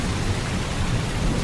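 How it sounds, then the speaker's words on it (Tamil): Heavy downpour with deep rolling thunder, a dense, steady roar of rain with low rumbling underneath, loud and continuous throughout with no voices. "ஆஹா, மழை பொழிகிறதே."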